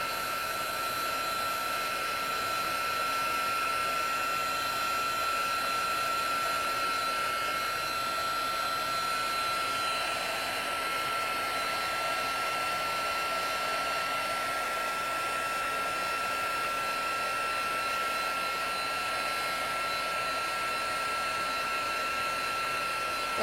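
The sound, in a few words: heat embossing tool blowing hot air while embossing paper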